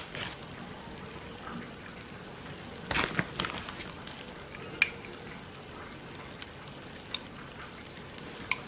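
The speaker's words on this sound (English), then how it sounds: "we're going to put some cheese on our griddle" Cheese sizzles on a hot chaffle griddle, a soft, steady crackle with a few sharper pops and one brief louder burst of hissing.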